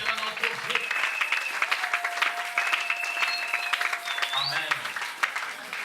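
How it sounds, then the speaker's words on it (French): A church congregation applauds steadily during a French-language worship service, a dense, sustained clapping with sung or shouted voices rising over it. "acclamez pour la gloire de Dieu notre Dieu"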